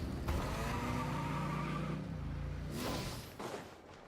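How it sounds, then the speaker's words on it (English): A car engine revs in Genshin Impact, a rising then falling motor drone with a second surge after a short pause, moderately loud. "Rev the engine."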